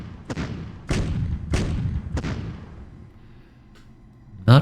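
Artillery fires in a World War II strategy game set in the Ardennes Offensive, four heavy booming shots in succession with decaying rumbles, followed by a quieter stretch and a final sharp burst.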